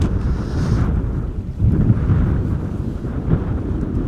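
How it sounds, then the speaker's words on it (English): Steady wind buffeting a microphone outdoors at Schiphol Airport, a loud low rumbling roar with gusty swells throughout, no voices. "Afrodita asks if the wind is picking up"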